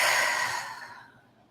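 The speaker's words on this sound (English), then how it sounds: "taking a nice big deep breath in, and on the exhale, really blowing it out" A single deep exhale blown out forcefully through the mouth during a guided breathing exercise, breathy and close, starting strong and trailing off into a soft fade with no talking.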